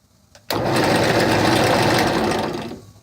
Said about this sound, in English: I'm going to cut this little knob out with the hole saw